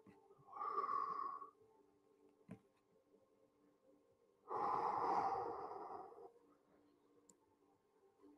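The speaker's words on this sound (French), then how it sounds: "Inspirez profondément, expirez" Two slow, deep breaths during a stretching session, each a breathy rush lasting about a second, close and fairly quiet, with a short pause and a small click between them.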